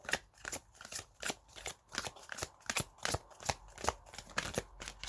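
Oracle cards being shuffled by hand for a tarot-style advice reading, a steady run of crisp riffling bursts, close and fairly loud, with no talking.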